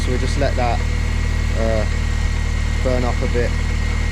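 A Mini Cooper S engine idles steadily and loudly right after starting up, with a constant low hum and slight knocking vibration, while someone talks over it.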